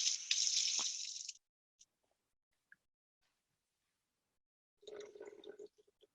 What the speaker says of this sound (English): I'm going to put some more water in here because I want to thin it out a little more.